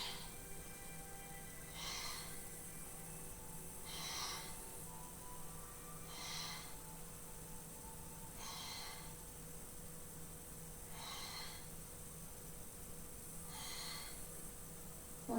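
Steady rhythmic breaths during a floor pilates exercise, six soft evenly spaced exhalation bursts roughly every two to two and a half seconds over a faint constant background hum, close and quiet, with no talking.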